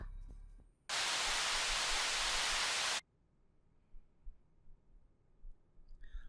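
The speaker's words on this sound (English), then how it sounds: "Suddenly, Serrano's voice turns into static noise" A harsh burst of loud static noise cuts in suddenly over a radio receiver in a horror video game, holding for about two seconds before stopping abruptly and leaving faint low rumbling behind.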